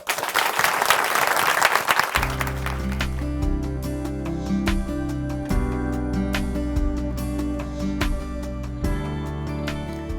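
Church congregation at Chuncheon Hanmaeum Church applauding a speaker as he is welcomed, a dense burst of clapping for about two seconds before music takes over and continues under it.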